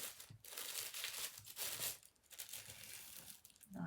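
Wrapping on a mini chocolate heart bouquet being folded, giving close, crisp crinkling and rustling in uneven bursts with brief pauses, fairly quiet and without talk.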